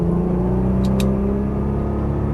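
A Nissan GT-R on a race track holds a steady, loud engine drone at constant throttle, with two brief high clicks partway through and no talking.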